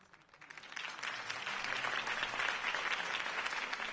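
Crowd applause at a Harvey Dent campaign rally in a Batman video game swells from quiet into dense, sustained clapping that holds steady, with no voices over it.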